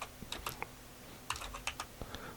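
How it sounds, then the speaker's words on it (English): Computer keyboard keys are tapped while playing Dwarf Fortress, giving sparse, uneven clicks in small clusters, fairly quiet and close, with no voices. "Pressing the wrong keys."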